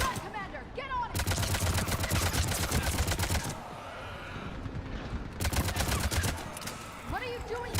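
Mounted gun firing in the game Mass Effect 3, loud rapid bursts of automatic fire in two long volleys separated by a short pause, with brief voice fragments between them.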